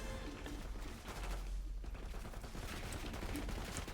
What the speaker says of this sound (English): Each button shoots a different gun.